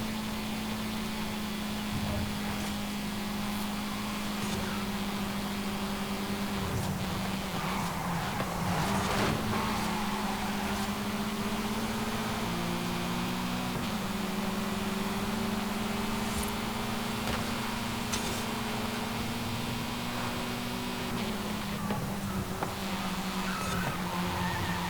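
Car engines racing in Forza Horizon 5 online street racing, B class: a steady, loud engine drone whose pitch climbs and drops with gear changes, with occasional tire squeal and scrapes throughout.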